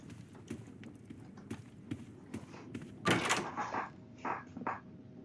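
A door opening in the horror video game Doors: a sudden burst of creaking and rustling around three seconds in, with a few softer knocks and thumps before and after it.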